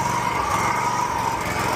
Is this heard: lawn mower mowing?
yes